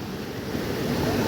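Icy, snow-fed river water rushes steadily around someone standing ankle-deep in a forest river near Naran, a dense, continuous roar close to the microphone with some wind buffeting.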